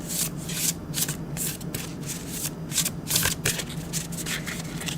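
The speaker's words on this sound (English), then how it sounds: "Getting lovely ASMR of cards shuffling today from a rune reader" Tarot-style cards shuffled by hand during a rune reading, a close, continuous papery riffling and rubbing with repeated bursts, intimate and fairly loud, with no talking.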